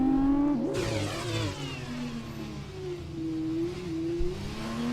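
F2 race cars downshifting and crawling around the Monaco hairpin, engine notes falling and rising in pitch with a sharp blip early on, loud and close with no talk.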